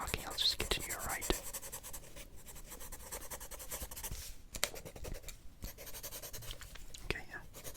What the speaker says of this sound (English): I'll just continue to write.